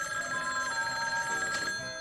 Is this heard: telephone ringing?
yes